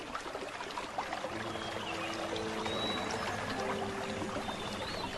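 Gentle stream flowing continuously at a steady moderate level, a soft broadband water wash with faint birdlike whistles above it, no voices.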